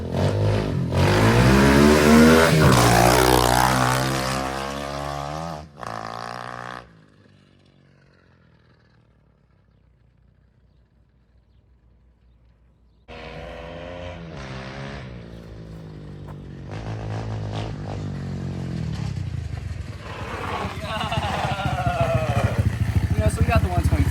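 A 125cc motorcycle engine revs hard and loud up close, drops to near silence for several seconds, then fires back up and climbs again in rising, revving bursts, with a voice speaking briefly at points.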